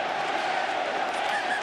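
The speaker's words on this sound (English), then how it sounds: "reaction of the crowd to that incorrect play" A rugby league crowd at a Wigan Warriors v Panthers World Club Challenge match roars in a dense, sustained wall of cheering and shouting, loud and unbroken throughout.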